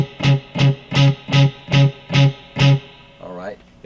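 Seven evenly spaced, loud struck notes of a low C sharp on an electric guitar, played at the ninth fret of the low E string, distorted and close, followed by a short ringing tail.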